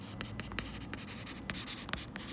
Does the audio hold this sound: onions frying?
no